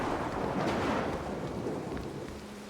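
A heavy stormy roar of thunder and rain fills the scene in the stealth video game Mark of the Ninja, a loud continuous rumble that swells early and slowly eases off, with no voices.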